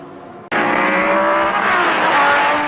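Corvette DP prototype race cars at full throttle in an IMSA race finish, engines roaring in after a brief silence and holding a loud, sustained high-revving whine with shifting pitch as the cars pass close.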